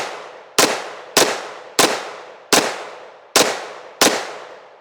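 Six sharp gunshots from a pistol caliber carbine ring out at a steady pace, each a loud, close crack followed by a decaying echo.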